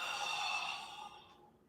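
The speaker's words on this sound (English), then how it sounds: "Big as you can, breathing out." A deep, drawn-out breath out through the mouth during a qigong breathing exercise, a soft breathy hiss that swells and then fades away, close and alone.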